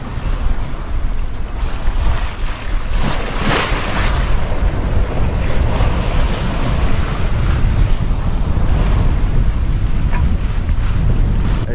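Steady wind roars and ocean waves rush past a sailboat on an offshore passage in 15 to 20 knots of wind, loud and continuous, with heavy wind buffeting on the microphone and no talking.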